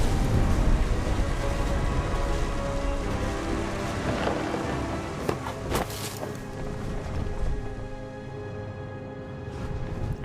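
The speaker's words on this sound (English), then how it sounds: "The thunder sounded much too close and full of angry power" A thunderstorm in the game What Remains of Edith Finch, with steady dense rain hissing throughout and rolling thunder rumbling low underneath, a few sharper cracks breaking through midway.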